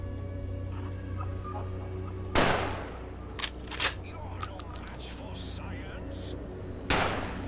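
Gunshots ring out in a Fallout: New Vegas (Old World Blues) firefight: a sharp shot near 2.4 s, scattered quieter cracks and clinks in between, and another loud report near 6.9 s, all over a steady low game hum.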